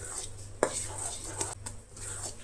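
Cake batter with milk being mixed in a bowl, giving scraping and clinking of a utensil against the dish, with a few sharper knocks and a soft continuous hum underneath.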